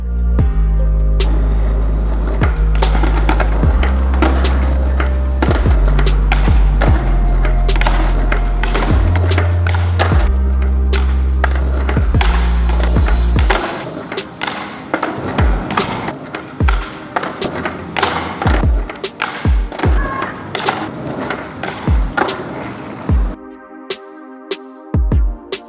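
A skateboard rolls with a loud, close grinding roar, then gives way to a run of sharp thumps and clacks as the board is tapped and stepped on. Low music plays under the first half.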